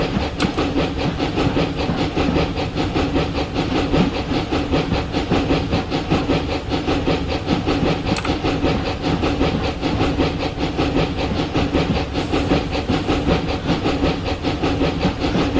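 A narrow gauge steam locomotive from Train Simulator Classic on the Clear Creek line chuffs steadily with rapid rhythmic exhaust beats over a continuous hiss of steam and mechanical clatter, with occasional metallic clanks, and no talking.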